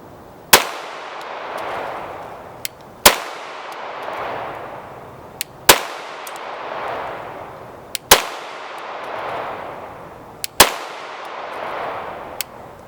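A Canik SFX Rival-S steel-frame pistol fires five single shots at an even pace. Each sharp crack is followed by a ringing decay, with faint metallic clinks between the shots.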